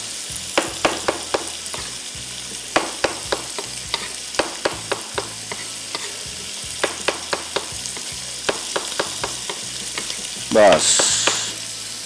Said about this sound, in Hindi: इसके बाद ये सारा मशरूम आ गया इधर, और इसको तेज़ आंच पे थोड़ा सा हम करेंगे फ्राई